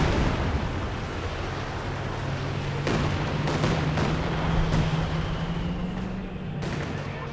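Katyusha rocket artillery barrage in the Company of Heroes 2 strategy game, a dense continuous rumble with several sharp impact bursts and a steady low drone throughout.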